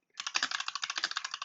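Rapid, steady keystrokes on a computer keyboard while scripting a Roblox game, a close run of crisp clicks at an even rhythm with no talking.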